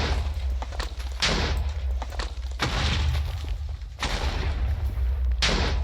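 Explosions from a tree farm in Minecraft, four loud broadband blasts roughly every 1.3 seconds, each a sharp onset followed by a rumbling tail, with no talk.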